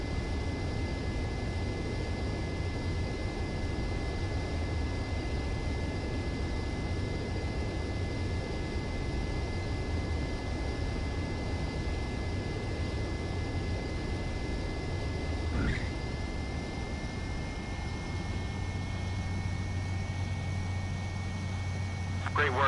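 Steady roar of a jet aircraft engine on landing approach in the video game Ace Combat 7, a continuous loud drone with a faint high whine that holds throughout and shifts slightly in pitch near the end.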